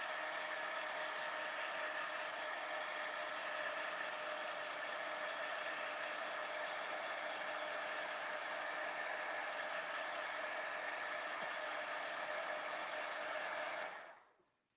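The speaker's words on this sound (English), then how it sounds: "I'm going to hit it with my heat tool just a bit." A handheld heat tool blows steadily while drying a handmade greeting card, a constant whooshing hiss with an even hum that runs unbroken for about fourteen seconds, then cuts off abruptly.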